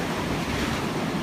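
Ocean waves breaking along a long straight coast, a steady close wash of surf mixed with wind rumble and no voices.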